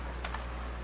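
Two quick keystrokes on a computer keyboard while a title is entered into a card-news page layout, soft and close over a steady low hum, with no talking.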